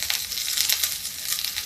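Chopped onions sizzle and fry in a pan on a high gas flame, a steady bright crackling hiss with small pops, close and continuous without any voices.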